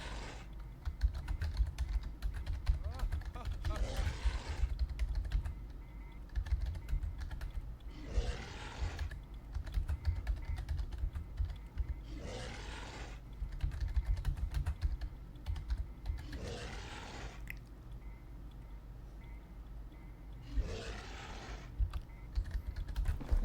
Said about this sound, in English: I'm typing in the wrong thing, you guys. Let's type in the right one.